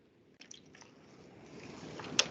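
Water trickles and splatters onto a honeycomb tray, soft wet squishing and dripping that builds gradually into a steady low splashing, with a sharper splat near the end.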